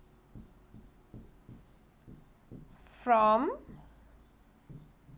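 A pen scratches out handwriting in quick, rhythmic short strokes close by, with a brief spoken word partway through.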